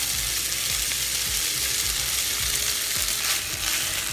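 Rice sizzling and frying in a pan with onion for kimchi fried rice, a steady close crackle with soft scraping stir strokes repeating every half second or so, no voices.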